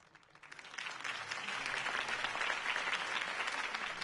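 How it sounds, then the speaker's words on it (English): Video game crowd breaks into steady applause after a brief quiet start, the clapping sustained and fairly dense throughout. "If only Mr. Wayne, my campaign's largest backer, could have heard that applause"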